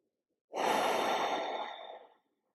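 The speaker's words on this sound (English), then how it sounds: "Continuing with your Ujjayi breath." Ujjayi breath during a gentle yoga practice: one long, steady, close-up exhale with a soft oceanic hiss, swelling quickly and fading over about a second and a half, with no talking.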